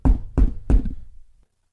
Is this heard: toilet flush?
no